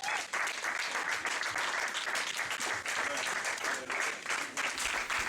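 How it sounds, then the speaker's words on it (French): Church congregation applauding vigorously for the Lord, dense continuous clapping with some cheering, loud and sustained throughout. "On va acclamer très fort le Seigneur."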